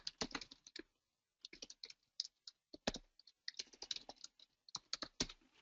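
Someone types on a computer keyboard in uneven bursts of quick clicking keystrokes, close and fairly quiet, with short pauses between runs.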